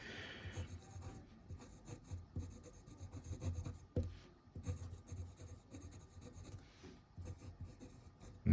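A Conklin Duragraph Amber fountain pen scratches across paper in steady, close strokes, with short pauses and the occasional skip, and no one talks.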